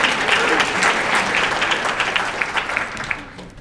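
Applause from an audience at a dinner speech, a dense, loud wash of clapping that holds steady for several seconds and then begins to thin out toward the end.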